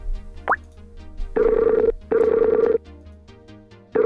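Skype outgoing call tone, with two long steady ringing bursts close together after a short blip, then quiet with low background hum and no talk.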